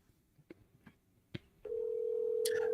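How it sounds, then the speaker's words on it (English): A telephone handset beeps through a few short dialing tones and clicks, then a steady dial tone sounds continuously until the end, near and clear with no talking. "Let me see if I can get him on the phone really fast."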